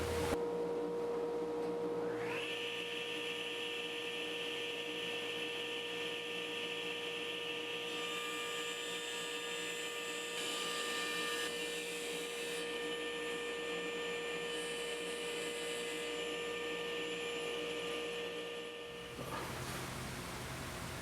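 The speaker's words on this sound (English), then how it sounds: "I guess I should turn the dust collector on" Workshop dust collector switching on and running in a woodworking shop, a loud steady whooshing roar with a constant whine that starts after a short lower hum, holds for many seconds, then dips near the end.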